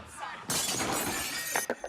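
Glass shatters in a Dreams animation on PS4/PS5, a sudden broad crash of breaking glass that spreads into a sustained bright scatter of shards and ends in a few sharp tinkling hits.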